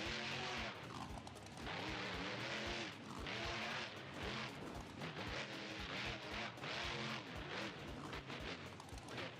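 An El Diablo monster truck engine roars loud and close in a BeamNG.drive game, revving in repeated surging waves with bangs and crunches from freestyle driving.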